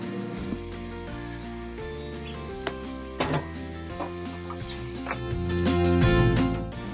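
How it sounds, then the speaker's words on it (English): Two chopped tomatoes hit a hot pan for a curry and start to sizzle, a hiss that swells toward the end, with light clatter and steady background music playing throughout. "Adding 2 tomatoes chopped."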